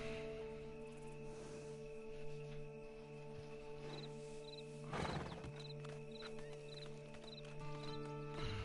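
A horse in the video game Red Dead Redemption 2 Online snorts and shifts with soft hoof clops under steady ambient game tones and wind, with occasional faint chimes over about nine seconds.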